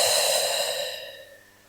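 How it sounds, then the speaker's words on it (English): A long, deep exhale through the mouth during a Pilates breathing exercise, close and breathy, fading out over about a second and a half. "your deepest breath in. And your deepest breath out"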